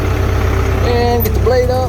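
A cheap, old bulldozer engine idles with a steady low rumble close by as the machine is put forward, while someone talks over it.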